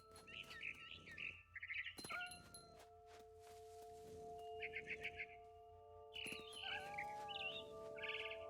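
A barn swallow in the video game What Remains of Edith Finch chirps in short bright twittering bursts over a soft game ambience, with occasional sustained synthetic tones and a few thumps.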